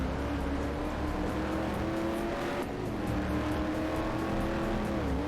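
A Corvette C5R race car engine in the PC arcade racing game Corvette: 50th Anniversary drones loud and steady at high revs, the pitch dipping briefly midway as if shifting before climbing again, with no voices.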